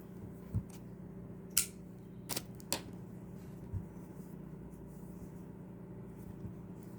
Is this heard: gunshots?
no